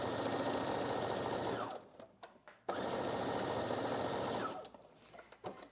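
A sewing machine stitches a 5/8-inch seam along a sleeve underarm for a McCall's 8053 basic dress, running in fast, continuous bursts that stop briefly and then start again, close and alone.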